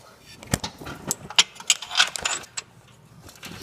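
A ratchet wrench works on a car hatch repair, giving irregular bursts of metallic clicks and clatter, loud and close, with voices talking around the work.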